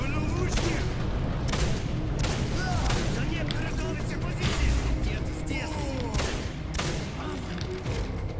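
Rapid, dense gunfire from weapons in the shooter game Singularity crackles and booms in loud bursts throughout, with scattered impacts and a voice talking over the shooting.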